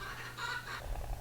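A chicken calls at a distance outdoors, a short, faint clucking burst over a low background hum.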